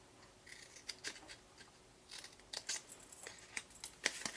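Scissors snip through paper while tabs are cut for a folded box, a series of short, crisp cuts in uneven bursts, close and quiet against a hushed room.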